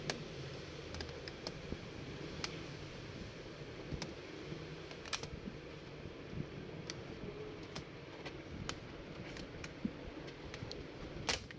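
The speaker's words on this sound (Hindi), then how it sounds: "तो अब ये फ्रंट से कीबोर्ड इसका जो है ना ये ओपन कर लेंगे। ये कीबोर्ड्स के लॉक हैं ये।" Plastic keyboard locks on a laptop being released by hand during a repair, giving scattered sharp clicks and snaps over a steady low hum of the workbench, with no talking.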